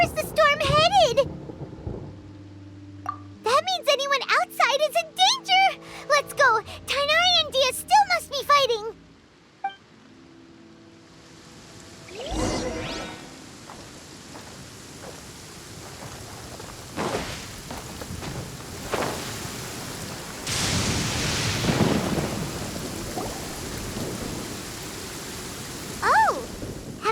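A thunderstorm in Genshin Impact brings a steady hiss of rain and occasional thunder cracks and rumbles, following a stretch of game music and voices.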